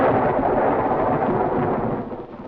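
A film-scene thunder rumble rolls low and broad for a couple of seconds, heavy at first and then gradually easing off as it fades.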